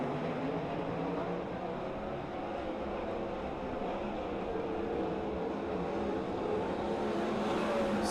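Sprint race cars roaring around the dirt oval at Silver Dollar Speedway, a steady loud engine drone from the pack with no break and no voices heard.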